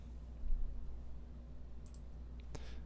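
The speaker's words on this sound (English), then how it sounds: "I apologize for the clicking" A computer mouse clicks a few times, faint and sharp, with a short burst around the middle and another near the end, over a steady low hum and no talking.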